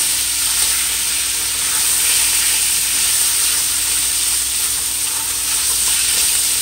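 Baby carrots hit a hot pot for a shrimp chow mein stir-fry, giving a steady, loud, close sizzle with a constant hiss of steam that holds evenly throughout, no voices.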